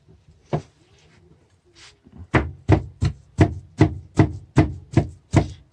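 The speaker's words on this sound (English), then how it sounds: "I've got my chicken chopped up in this bowl, and then I'm chopping this one up right now" A very sharp knife chops raw chicken with its skin on against a board, a few scattered strikes and then a steady run of about ten firm, evenly spaced thuds, close and loud.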